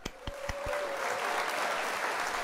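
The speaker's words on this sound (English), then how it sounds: "Round of applause." A few sharp isolated claps open a short burst of applause, which then swells into a dense, steady patter of many hands at moderate loudness, heard alone without talk.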